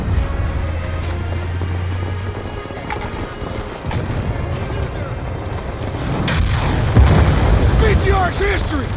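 An RPG rocket blows apart a BTR armored vehicle during a Call of Duty: Black Ops II battle in Afghanistan, a heavy rumbling blast swelling over continuous gunfire and battlefield noise, with shouted voices mixed in.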